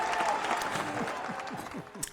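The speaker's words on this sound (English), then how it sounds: "I think an applause is necessary" Studio audience applause on a talk show, a short steady clatter of clapping that stays fairly even and fades slightly toward the end, with a voice faintly mixed in.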